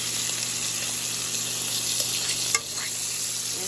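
Bacon frying in a pan for a Christmas dinner, giving a steady, close, loud sizzle with a brief clink partway through.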